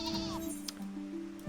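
A sheep mount in Final Fantasy XIV gives a single wavering bleat, close and clear over a background game hum.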